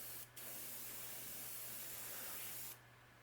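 Paint hisses steadily from an airbrush onto the belly of a crankbait lure, one continuous spray lasting a couple of seconds, close and alone.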